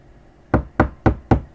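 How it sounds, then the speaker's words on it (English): Four sharp knocks on a door, evenly spaced in a quick steady rhythm, close and loud against a quiet room with no talking. "Let's say he did knock."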